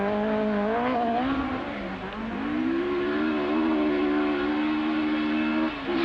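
A Ford Escort rally car, the David Sutton entry, drives a Welsh rallysprint stage in 1981, its engine note holding a strong rising and falling tone, loud and close, with a brief dip around the midpoint and no speech.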